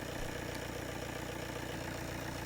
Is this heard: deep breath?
no